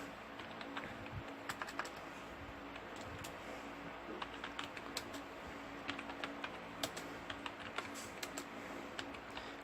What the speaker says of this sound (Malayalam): കുറച്ച് നമ്പർ ഞാനിവിടെ ടൈപ്പ് ചെയ്തു